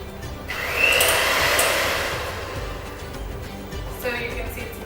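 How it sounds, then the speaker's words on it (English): An electric hand mixer creams butter and sugar, its steady motor whir rising and falling in pitch as the beaters work the mixture, fairly close and continuous. "get yourself a hand mixer and just cream it until it's all mixed together"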